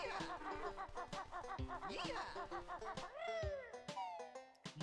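A cold cat perched on top of a desktop PC meows repeatedly, close and clear, in a run of short, rising and falling calls that end in longer drawn-out cries.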